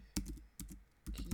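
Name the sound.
typing an SSH keygen command on a computer keyboard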